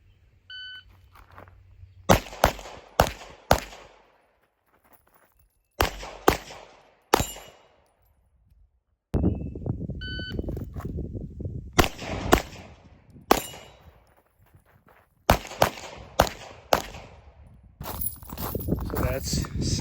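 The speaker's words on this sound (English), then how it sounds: "I'm going to shoot a partial about, I would say 12 yards, and then a very small, maybe a 2-3 inch steel popper" Shots from a Walther PDP pistol fired at a paper target about 12 yards away and a small steel popper: sharp, loud cracks in short bursts of two to four, separated by pauses, with someone talking between strings.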